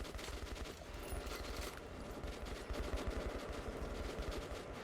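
Dense, continuous automatic gunfire from the Metro Last Light video game, rapid bursts of shots rattling loudly and without pause through the whole stretch, with no talking.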